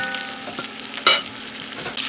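Meat browning in a frying pan in a country kitchen, a soft steady sizzle with a brief louder hiss midway as a piece is turned, no talking.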